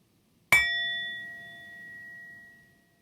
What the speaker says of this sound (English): as we hear the last of the chime